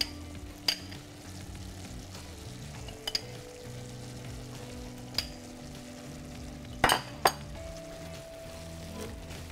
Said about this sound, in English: we're going to start by adding that brown butter that we made